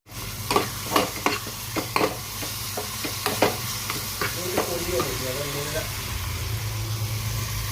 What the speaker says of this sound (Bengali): মশলাপাতি পেঁয়াজগুলি একটু ভালো করে ভুনে নিচ্ছি, আগে ভেজে নিচ্ছি আর কি